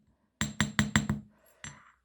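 A small hammer strikes a copper disc to texture it, giving five quick, bright metallic taps in an even rhythm, then a short pause and one last tap, close and clear with no talking.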